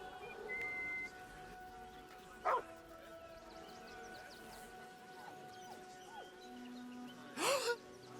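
Scratch the dog in Baldur's Gate 3 gives a couple of short barks or yips, one early and a louder one near the end, over quiet game ambience with faint tonal music.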